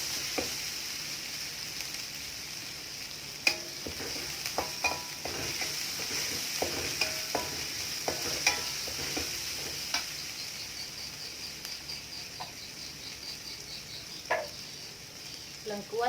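Spice paste sizzles steadily in a hot pan while being stirred, with scraping strokes and small crackles; it is being cooked for a dish of pounded bamboo shoots in coconut milk with galangal and lemongrass.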